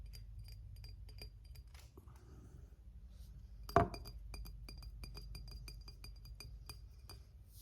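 A pint glass clinks against a hard surface while beer is handled, one sharp ring standing out midway, with small light taps and knocks before and after in a quiet room.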